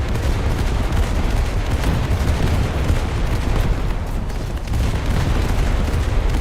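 Naval guns firing high-explosive shells in a naval combat video game, a dense, continuous barrage of booms and blasts rolling together without pause, loud and unbroken throughout.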